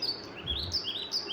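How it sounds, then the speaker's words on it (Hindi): Sparrows chirp in quick, high, twittering bursts that run continuously and sound fairly close, with no voices over them. "चिड़ियाँ तिनका लेकर आई, चूँ चूँ चूँ चूँ।"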